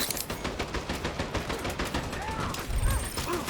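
Rapid automatic gunfire from the online shooter Dirty Bomb, bursts of dense shots rattling close and loud across the whole stretch, with a heavier thump near the end and faint voice underneath.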